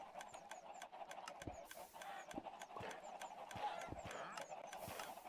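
A chicken in the Minecraft video game is hurt and dies, giving a run of short squawking clucks over a steady game background hum.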